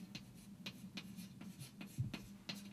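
Chalk or marker strokes on a board while loop equations for Norton's theorem are written out, with quiet, closely spaced tapping and scratching in an irregular rhythm.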